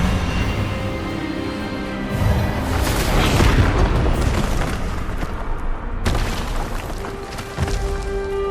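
A wand spell blast, Expelliarmus, in a fantasy duel at Hogwarts, erupts as a loud, sustained booming roar that swells and then holds for several seconds, with a second heavy impact near the end.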